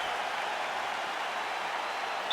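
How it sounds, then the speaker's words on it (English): A UFC arena crowd applauding after a women's grappling exchange, a dense, even wash of clapping from many hands at a distance, sustained at steady loudness without individual voices standing out. "The crowd is appreciating the high-level grappling exchanges that they just experienced."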